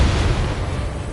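A target explodes in the Ace Combat 7 jet-combat video game, a short, loud, low rumbling blast with dense broadband roar that holds steady through about a second.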